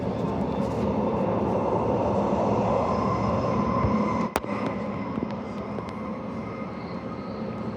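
A passenger train pulls out of Beckenham station in Perth at night, a steady close rumble and rolling rail noise throughout with one sharp squeal midway.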